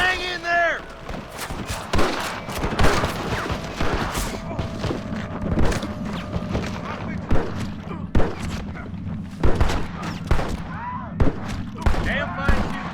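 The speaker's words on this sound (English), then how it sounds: "Damn fine shooting, boys." A Red Dead Redemption shootout packs rapid overlapping gunshots, loud close cracks and scattered bursts of fire, with a voice briefly shouting between volleys.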